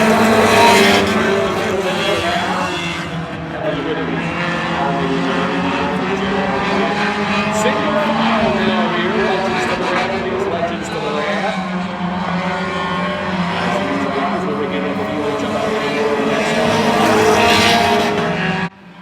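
Race cars roar around Oyster Bed Speedway in a continuous loud blend of engines rising and falling as the pack circles, with a commentator speaking over the racing.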